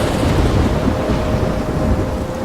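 Steady, loud thunderstorm in the video game Life is Strange: continuous rumbling thunder and rain wash fill the whole stretch without pause, with no voices over it.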